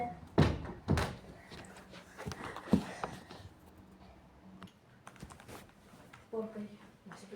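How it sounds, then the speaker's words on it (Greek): Several hard door thumps, loud and close, with one clear slam early and softer knocks after it, while voices talk in Greek around them during a game of fleeing zombies. "Κλείσε την πόρτα."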